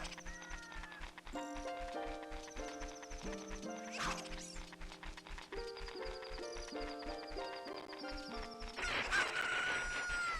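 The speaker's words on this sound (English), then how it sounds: "it was the normal cockle-doodle-doo" A rooster crows in the Ocarina of Time video game as morning arrives at the ranch, the call sitting over steady game music with clip-clop and horse-like sounds throughout.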